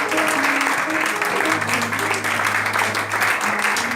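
A church congregation applauds to acclaim the Lord during a sermon: steady communal clapping with sustained voices and tones beneath it, continuous for the whole stretch.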